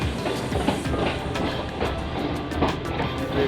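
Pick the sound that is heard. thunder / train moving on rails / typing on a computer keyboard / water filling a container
train moving on rails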